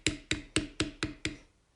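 A beveling tool is struck into leather with a mallet, giving six evenly spaced, sharp, close knocks, each with a short ring, before the sound falls quiet.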